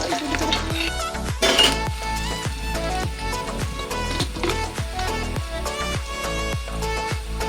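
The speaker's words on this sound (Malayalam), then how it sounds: "കറിവേപ്പിലയും കൂടെ എണ്ണ പിടിക്കാൻ വേണ്ടിയിട്ട് നമ്മൾ ഇത്തിരി കൂടെ ഒന്ന് മിക്സ് ആക്കി കൊടുക്കണം" Lime pickle with curry leaves in oil stirred in a pan, with a steady run of rhythmic scraping spoon strokes over a soft sizzle, close and continuous.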